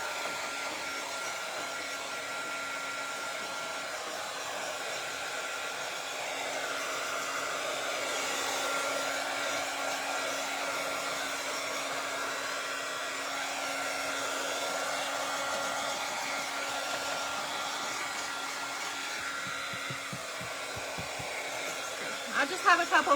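A hair dryer runs steadily up close, drying paint with a constant airy whir and a faint hum; brief rustling creeps in near the end.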